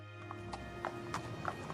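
A horse gallops with a rider aboard, hooves clopping in a quick, fairly quiet rhythm over a short run, with a faint whinny and no talking.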